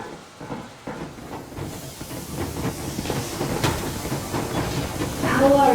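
Steam train in Metro Exodus pulling away, a broad hissing rush of steam with rhythmic chugging and rail clatter that swells toward the end, a voice briefly audible beneath.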